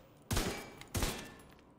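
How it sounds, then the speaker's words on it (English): Two loud assault rifle shots in the video game Division 2, fired at point blank range at a target, each a sharp blast with a short fading tail, spaced about half a second apart. "if we shoot a point blank target, watch this"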